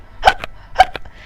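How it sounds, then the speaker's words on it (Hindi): Two short, sharp hiccups from a newborn baby about half a second apart, each a quick breathy catch with a small trailing sound, close and clear in a quiet room. "बच्चा बहुत बार हिचकी लेने लगता है और लेते ही रहता है"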